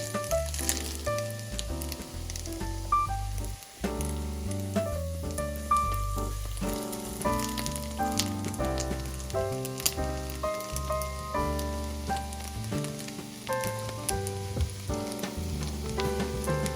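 Coconut French toast fries in a pan, a continuous sizzle running under steady music throughout.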